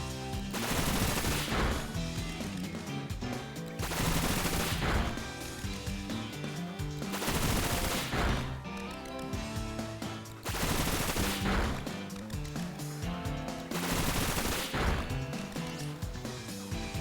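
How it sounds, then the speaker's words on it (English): Bullet Seed attack in a Pokémon video game, five loud bursts of rapid, rattling impacts at an even rhythm, each about two seconds long and separated by short gaps. "a 5-hit bullet seed"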